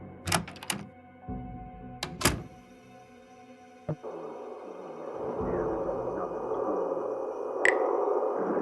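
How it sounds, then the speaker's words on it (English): Door opening in the video game Frequency Missing, a few sharp clicks and a thunk followed by a sustained low ambient hum, fairly close and clear. "The door to the kitchen."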